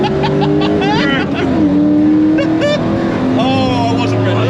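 A Ford Transit van fitted with a BMW V8 drifts hard nearby, its engine screaming and revving over squealing tyres, with excited voices talking loudly throughout.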